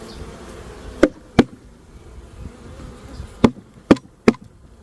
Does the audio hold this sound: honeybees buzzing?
yes